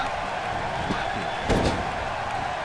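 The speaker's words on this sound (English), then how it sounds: "Bouncing off the turnbuckle and hits him with the German suplex" A wrestler is slammed to the mat with a German suplex, a single heavy thud landing midway through a steady roar of arena crowd noise.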